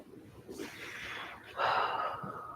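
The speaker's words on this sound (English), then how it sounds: "Taking another deep breath here." A deep breath is taken during a yoga stretch, with a soft, airy inhale followed by a fuller, louder exhale, close and clear.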